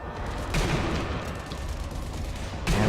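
Gunfire in the zombie shooter Sniper Elite: Nazi Zombie Army, with two heavy shots about two seconds apart standing out over a dense, continuous layer of game noise.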